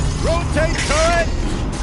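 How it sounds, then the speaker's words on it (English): Mechanical whirring and ratcheting of a turret rotating in Horizon Zero Dawn on PS5, with gliding tonal sweeps over a steady game soundscape, close and fairly loud. "Rotate turret!"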